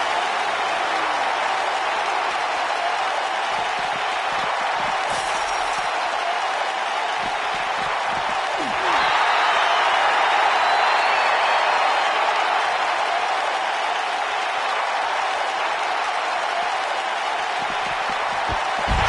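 Arena crowd in a wrestling video game applauds and roars as a dense, continuous wash of noise for nearly twenty seconds, swelling slightly midway, with no clear voices on top.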